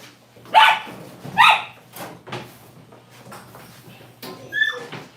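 A dog named Mia barks during a bath, giving two strong close barks in the first moments followed by softer whimpers, splashes and clatter, then another bark near the end.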